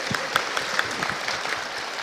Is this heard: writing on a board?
no